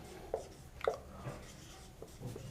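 Writing on a board while working through a physics derivation of Coulomb's law from Gauss's theorem: faint, sparse scratching strokes and taps, close and quiet, with pauses between marks.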